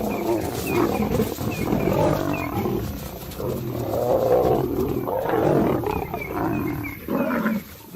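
White lions roar and snarl while fighting, a dense, rough, continuous growling and roaring that is loud and close throughout.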